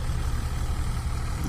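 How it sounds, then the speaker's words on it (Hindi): A tractor engine idles slowly with its bonnet open, a steady low rumbling drone close by with no speech. "ज़्यादा तेज़ नहीं चलाना पड़ रहा है, स्लो चलाना पड़ रहा है ट्रैक्टर"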